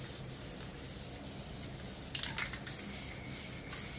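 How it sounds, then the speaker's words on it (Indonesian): An aerosol can mists a thin black coat of spray paint onto a motorcycle body panel, giving a faint, steady hiss with a few short, brighter bursts of spray near the middle. "Kita semprot secara kabut saja ya lur, atau istilahnya tipis-tipis saja, tidak usah diblok warna hitam"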